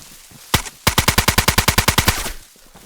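Rapid rifle gunfire in DayZ, hip-fired as a single shot followed by a fast, steady string of about fifteen loud, close reports, with no talk over it.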